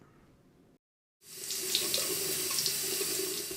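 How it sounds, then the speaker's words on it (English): Water gushes steadily from a faucet after a brief silent gap, close and loud, with a bright hissing splash that runs without pause to the end. "You turn on the faucet and access clean drinkable water directly from the tap"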